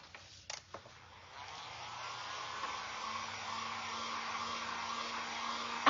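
Hair dryer blowing on a wooden jack-o'-lantern craft piece, a steady whooshing airflow with a faint motor hum that switches on after a few light clicks and runs continuously at moderate volume.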